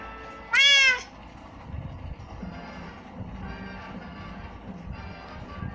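A single short, bright Minecraft cat meow rings out near the start, then fades into a low, busy background hum with scattered soft noises.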